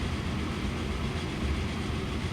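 Train running on rails in the video game Transport Fever, a dense, steady rumble of wheels and engine at close range, loud and unbroken.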